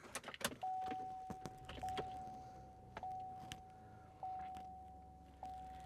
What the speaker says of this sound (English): we do have the key that we need to insert